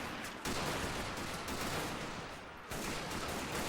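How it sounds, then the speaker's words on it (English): Sustained machine gun fire in a World War One battle game, dense rapid bursts merging into a loud continuous roar, breaking off briefly near the start and again about two-thirds through before resuming. "look at this machine gunner moving up close to the Russians, opening fire, slaying several out in the open"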